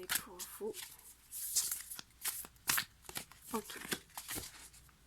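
Tarot cards being shuffled by hand in a series of quick riffling, papery bursts, close and fairly soft, with a brief spoken word from one person partway through.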